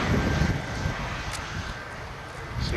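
A military jet with a parachute deployed coasts slowly along the runway after landing at an air show, giving a steady, moderately loud broadband rumble with wind noise.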